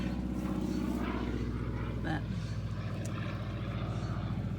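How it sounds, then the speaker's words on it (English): A propeller aircraft drones overhead on the Fourth of July above a home garden, a steady low engine hum that persists throughout, with a person speaking briefly in the foreground. "I've heard a lot of planes out today."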